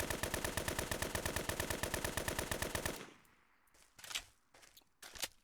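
Rapid automatic fire from the Fallen V5 gun in a video game, a steady loud burst of evenly spaced shots for about three seconds, then stopping, followed by a few scattered quieter clicks and thumps.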